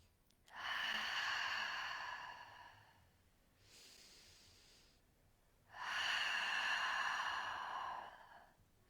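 Slow, steady breathing during a yoga exercise, with two long, close inhales or exhales separated by a softer breath, smooth and unhurried with no talking.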